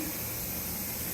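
Steady broadband hiss of steam venting from a Nesco smart pressure canner processing homegrown carrots indoors, continuous and even throughout with no pauses, under a running vent hood fan.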